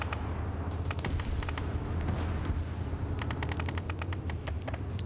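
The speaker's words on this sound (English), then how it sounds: "Ooh, it's the rockets, man." Rockets firing in a military combat game set in Syria: rapid bursts of sharp cracks and pops over a steady low roar, clustered in quick volleys, moderately loud with no talk.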